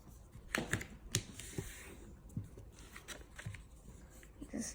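Paper being folded and creased by hand for a square ninja star, heard as a steady run of crisp crinkles, taps and snappy clicks, close and fairly quiet, with no talking.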